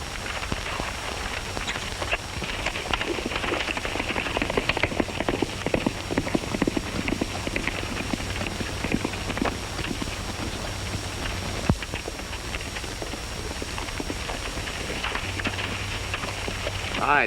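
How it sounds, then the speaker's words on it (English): Horse hooves clip-clopping steadily at a fast pace in an old Western setting, a continuous rhythmic patter of hoofbeats over a grainy background. "Stoney, how about using your horse?"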